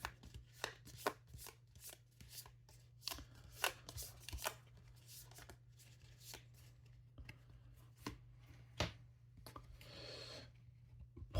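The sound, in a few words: shuffling cards for the board game ISS Vanguard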